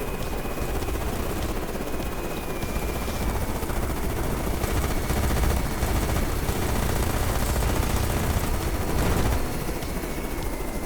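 Ship-mounted guns fire in a video game naval battle over an ocean planet, a dense, sustained rattle of gunfire layered over a steady rotor-like mechanical drone, loud and continuous throughout.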